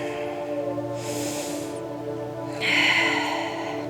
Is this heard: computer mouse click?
no